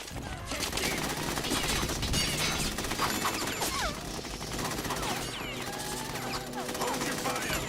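Rapid bursts of automatic gunfire and clattering impacts fill a Metal Gear Solid 2 firefight, dense and continuous over a busy game soundtrack, with voices speaking faintly underneath.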